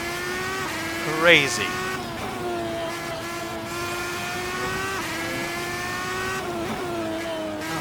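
A Red Bull X2010 race car drives at speed, its engine holding a steady high tone with small pitch shifts and a brief squealing burst near the start, while a voice speaks over it.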